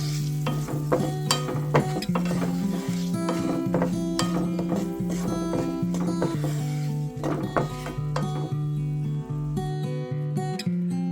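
Chili powder and a handful of dried red chillies fry in hot oil for a raw mango dish, with a soft steady sizzle and repeated scraping stirs throughout, close and fairly quiet.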